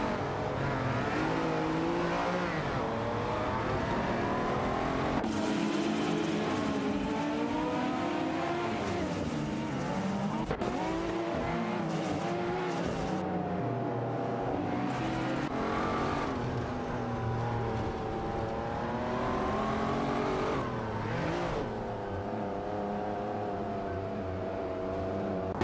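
Racing engines from a video game race featuring an Audi Sport Quattro and a Dodge Viper GTR 99, with continuous revving, gear-shift pitch sweeps and cars passing close, loud and unbroken throughout.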